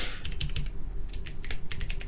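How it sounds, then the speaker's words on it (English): Fast typing on a computer keyboard, close and clear, a rapid irregular patter of key clicks with brief pauses between bursts and no voices. "What are you typing?"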